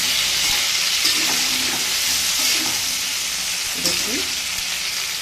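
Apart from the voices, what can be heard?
okra and eggplant frying together in a pan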